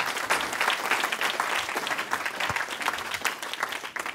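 Many hands clap together as a congregation applauds during a church service, a sustained, even burst of crowd clapping with no speech on top.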